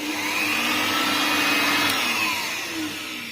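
A Daewoo 600-watt electric blower runs at maximum speed, a loud, steady high-pitched whine and rushing air that holds level close by and eases slightly at the end.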